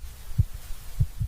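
Heartbeat sound effect at an elevated pace: low, muffled thumps repeating quickly and evenly, close and isolated over a faint hum.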